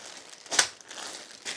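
A plastic bag of COBI bricks being torn open: a quick sharp crinkling rip near the middle, with softer rustling of plastic around it, close and fairly quiet.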